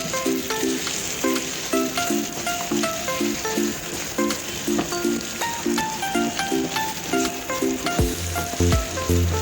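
Mutton sizzles and fries in desi ghee in a karahi, a steady crackling hiss with rhythmic stirring clinks of a spoon against the pan, close and continuous.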